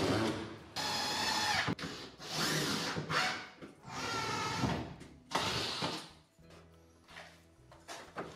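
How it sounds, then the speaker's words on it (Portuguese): A power screwdriver drives screws to fasten the upper modules onto the wooden top of a low-cost DIY mitre saw station, with several whirring bursts of a few seconds each, close by, and a wooden knock and handling noise at the end. "Para parafusar estes módulos superiores ao tampo em baixo, utilizei o laser para ficar tudo alinhado."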